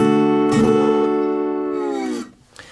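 One sustained chord rings out on slide guitar, played with the slide held directly over the fret, close and fairly loud, then decays and stops.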